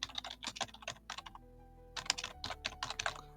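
Typing on a computer keyboard to rename a workflow node, a quick close run of light key clicks, a short pause, then another burst of rapid tapping, quiet and alone.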